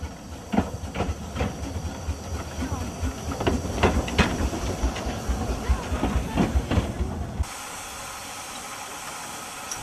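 Steam train on the Vallée de l'Ouche railway, a steady chuffing and hissing run with rhythmic clanking beats that drops to a quieter, even rumble near the end.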